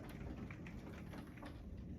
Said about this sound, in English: now it's starting to rain now